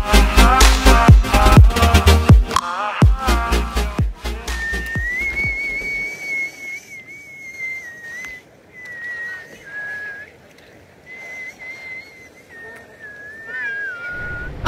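A man whistles a sustained, wavering tune without moving his lips while standing by moving water in Naran in Pakistan's northern areas. It follows a loud burst of music and continues alone over a steady rush of water.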